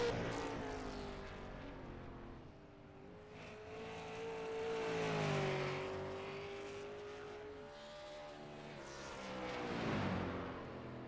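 A single race car in a sim racing game heading out for qualifying laps, its engine note rising and falling through gear changes and revs, moderately loud and steady with no talk over it.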